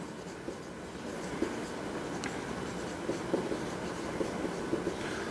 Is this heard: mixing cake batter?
no